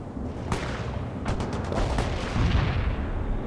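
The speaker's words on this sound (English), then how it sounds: "Molotov firing mortars" Mortar rounds fired in World in Conflict: a series of sharp, loud blasts in quick succession, with booming rumbles between them and a dense layer of battle noise throughout.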